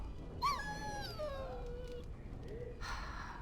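A dog in the fantasy role-playing game Dragon Age Origins lets out a high, wavering whimper that slides downward over a couple of seconds, followed by a softer whine, all above a low ambient bed.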